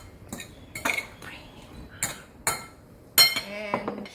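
Utensils toss pesto pasta in a bowl, making sharp metallic clinks and knocks in uneven bursts, close and distinct, with a brief ringing chime near the end.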